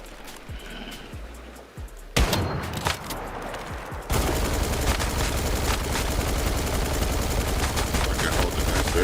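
PPJ gun firing in the video game Once Human, loud rapid bursts of automatic gunfire that grow into a sustained dense rattle, with a voice talking faintly underneath.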